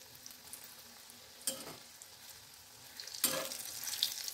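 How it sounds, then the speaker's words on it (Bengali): Dough balls lowered into hot oil, frying with a soft steady sizzle, with two brief louder bursts of bubbling as more pieces go in, close by and without talk. "এর ওপরে আমি খুব সামান্য ময়দা ছড়িয়ে বলগুলোকে এঁটে তেলে ছাড়ছি"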